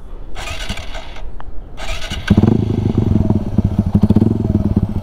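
A motorcycle engine is given light throttle for a wheelie, opening with a couple of hissy noise bursts before settling into a close, loud, pulsing rumble that throbs rhythmically.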